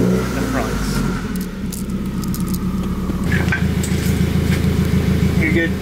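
A Subaru WRX idles and creeps forward onto blocks, its low engine rumble steady and close, firming up toward the end, with people talking over it.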